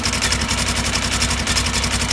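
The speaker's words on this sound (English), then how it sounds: "notice how I revved up the motor a little bit" Polaris 900 XP engine fitted with a Duraclutch, idling steadily and close with a low throbbing pulse through the whole stretch, no voices present.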